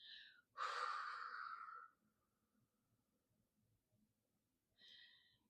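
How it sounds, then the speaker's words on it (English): A single long, soft exhale through the mouth during a guided relaxation breathing exercise, heard alone in a quiet room, framed by faint breathy sounds before and after. "And then exhale long through your mouth."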